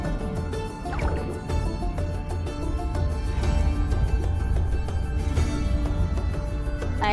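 Watery splashing and liquid gurgles as a character swims through icy water in the video game Kona II, continuous and fairly loud over a steady musical score.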